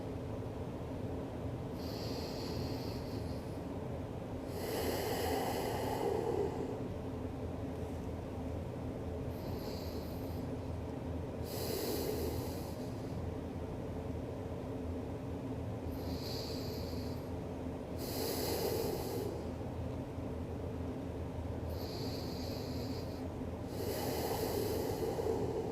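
Slow, deep breaths repeat steadily during a yoga session, each inhale and exhale a soft airy rush arriving every few seconds over a constant low background hum.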